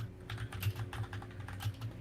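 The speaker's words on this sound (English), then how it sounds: "Sorry for my mechanical keyboard." Rapid clacking keystrokes on a mechanical computer keyboard, close and steady with uneven rhythm, over a low constant hum.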